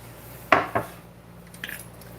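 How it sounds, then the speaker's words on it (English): A knife strikes a cutting board a few times while chopping steak into chunks for cheesesteak quesadillas, two sharp knocks close together followed by a fainter tap, over quiet kitchen background. "I'm just going to take my steak here, and we're just going to chop it into little chunks."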